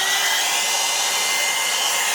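A hair dryer blows hard and close in a continuous even roar, drying a mixed media vintage steampunk-style craft tag, with no voices.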